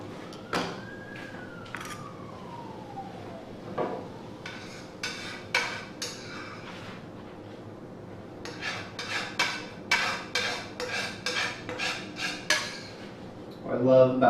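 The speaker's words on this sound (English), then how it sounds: "grab a spoon and we can just scrape that out of our pan and into our bowl here" A metal spoon clinks and scrapes against a pan as garlic is cleared out into a bowl, a series of sharp taps and rasps growing busier toward the end, with a faint whine early on and no talk.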